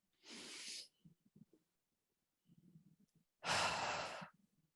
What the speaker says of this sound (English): So we'll do 2 deep breaths in.